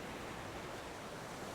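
Ocean waves breaking on a rocky shore make a steady, dense broadband roar at moderate volume, with no distinct individual crashes and no voices.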